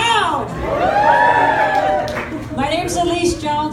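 Crowd at a Boulder County campaign kickoff rally for a candidate, cheering and whooping loudly, with chatter and a voice speaking over the noise throughout.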